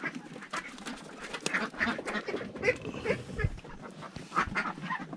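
Farm ducks kept in a backyard pen on a small Filipino homestead quack over and over, a busy overlapping chorus of nasal calls that sounds close and steady.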